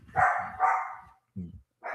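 A dog barks loudly nearby, two quick barks followed by a couple of shorter yips, heard alone with nothing else going on.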